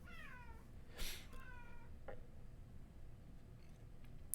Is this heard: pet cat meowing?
yes